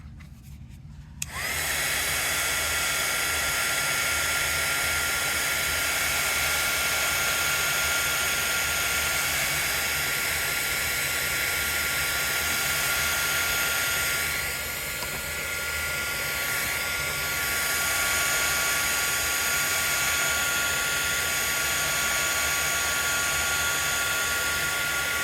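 A dryer starts up and blows steadily for over twenty seconds to dry shimmer watercolor paint on a crafting surface. The whirring roar is loud and close, and no one speaks over it.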